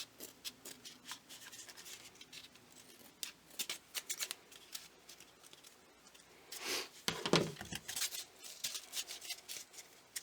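Scissors snipping through material while trimming a decorative hat, a run of soft, close crisp cuts and rustles with a denser burst of handling noise near the end.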